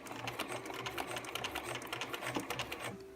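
A sewing machine runs a straight stitch while piecing a quilt top, a dense, rapid mechanical clatter that goes on steadily and close by, then stops just before the end.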